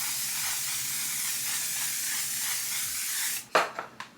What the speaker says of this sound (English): let's finish this off with some finishing spray. I'm using the One Size On Till Dawn mattifying waterproof spray